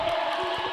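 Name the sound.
crowd cheering at a roller derby match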